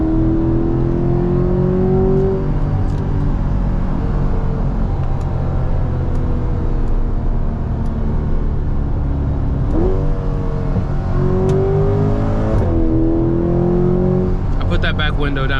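A Corvette C8 Stingray Dubai Edition accelerates on the road, its engine climbing through loud rising revs and shifting pitch from inside the cabin, with a steady roar beneath.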